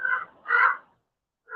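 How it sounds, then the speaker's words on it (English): Crows give two loud, harsh caws close overhead at Ontario Mills, a pause between them, then a third call begins as the clip ends; no talking. "There are some huge crows here in the Ontario Mills."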